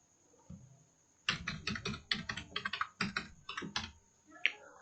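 An Aadhaar number is typed on a computer keyboard, a quick run of about a dozen crisp, close key clicks in an uneven rhythm, then a short pause and one more tap.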